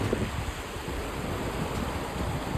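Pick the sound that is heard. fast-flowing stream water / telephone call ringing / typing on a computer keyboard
fast-flowing stream water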